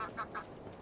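A goose in a farming video game gives two quick honks right after being bought, short nasal calls standing alone against quiet game background.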